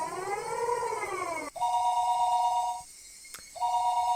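A telephone rings out after a number is dialed in the Higurashi visual novel, first with a wavering electronic tone and then two steady ring bursts separated by a short silence. The ringing is clear and there is no talk.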